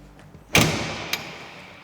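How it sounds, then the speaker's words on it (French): Cab door of a Jungheinrich diesel forklift shuts with one sharp, close thud, followed by a faint rattling click a moment later. "Ludivine, si tu veux bien fermer la porte. J'ai du mal à la fermer."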